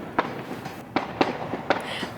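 Distant fireworks at night, several sharp pops spaced through the moment, some crisp and close together, over faint outdoor background.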